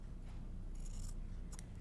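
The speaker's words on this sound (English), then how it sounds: "I'm gonna come back with my scissors and trim a 1/4 inch away approximately" Scissors trimming the fabric seam of a cross stitch pillow, giving two brief crisp snips close by in an otherwise quiet space.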